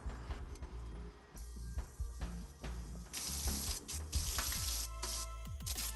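Dishes being washed at a home kitchen sink: running tap water and splashing with scattered clinks and knocks of plates and utensils, close and steady, no talking.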